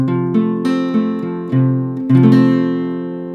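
A four-note open guitar chord, high E string unplayed, strummed repeatedly, several ringing strums at an easy pace, each sustaining and fading before the next, clear and close.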